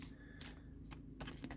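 Tarot or oracle cards are shuffled in the hands in quick riffling bursts, close and fairly soft, with no talking.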